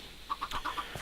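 A chicken in the Minecraft video game clucks in a quick run of five or six short, soft, evenly spaced notes, faint over a low background hum, with no voices.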